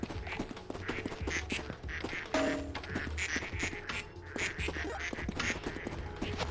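Ducks quack repeatedly in the video game Project P.I.T.T., a busy run of cartoonish calls layered over game music and effects at a steady, moderately loud level.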